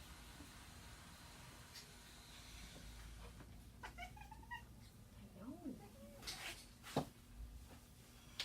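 A cat lying on an x-ray table in a veterinary radiology room lets out faint, wavering meows over a steady electrical hum, with soft murmuring voices in the background.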